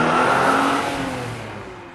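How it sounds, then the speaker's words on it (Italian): Car engine roaring on surveillance camera audio, a loud broadband rumble that holds steady and then slowly fades over about two seconds, with no voices. "per qualche secondo si sente il rombo di un motore"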